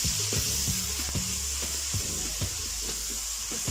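Ginger garlic paste sizzles in a pot of browned onions while being stirred and sautéed for pulao, a steady close hiss broken by soft scraping strokes of a spoon, with no voices.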